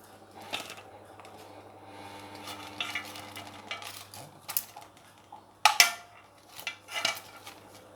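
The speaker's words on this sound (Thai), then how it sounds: "เดี๋ยวคนให้เข้ากันนะคะ" A salami mixture is stirred in a bowl, giving soft scraping and occasional clinks of utensil against the dish, with one sharper knock, over a quiet low background hum.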